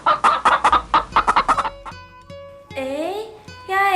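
Chickens cluck in a fast run of loud, close calls, then quieter scattered clucks and a drawn-out squawk follow.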